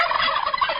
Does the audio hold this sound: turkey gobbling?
yes